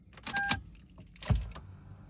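A Lexus GX470 with a charging fault clicks and clunks as its ignition key is turned, two short bursts of mechanical noise with a faint jingle of keys, close by and without talk.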